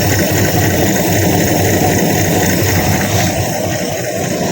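A Magnum 5.2L V8 freshly swapped into a 1969 Dodge Dart runs steadily at a warm-up idle, a loud, continuous close-up rumble with no pauses or voices.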